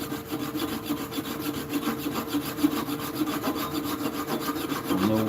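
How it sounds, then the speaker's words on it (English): A hand saw cuts through wood on a work table with fast, steady back-and-forth rasping strokes, close and continuous throughout, with no voices. "You can go ahead and start cutting right here"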